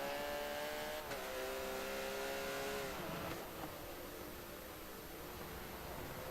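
Race cars in a GT sim-racing round roar down a straight on the final lap, engines revving steadily with pitch drops at gear changes, loud and continuous with no voices.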